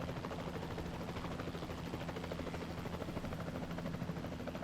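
A helicopter in the video game Jurassic World Evolution 2 gives a steady, faint rotor thrum with a low pulsing beat, continuous throughout and at middle distance, with no talk.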